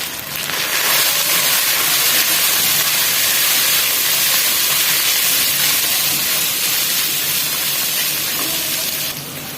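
Chicken pieces hitting a hot pan of curry base, giving a loud, steady hiss and sizzle that rises sharply at the start and holds for several seconds, with no talking.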